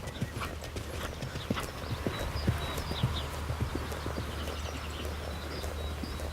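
Horse hooves trotting on a diagonal across a riding arena, a steady two-beat clip-clop at moderate distance over a low rumbling background, with occasional birds chirping and no talk.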